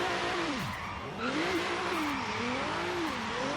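A Genesis drift car in Forza Horizon 3 revs hard, its engine pitch sweeping up and down in repeated loud waves, with faint tire noise underneath and no talking.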